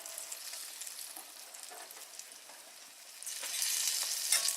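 Breaded green tomato slices frying in a pan, a continuous crackling sizzle that stays steady and then grows louder and busier toward the end, with no voices.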